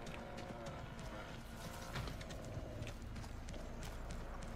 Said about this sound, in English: I hear steps upstairs.